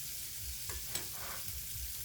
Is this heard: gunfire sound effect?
no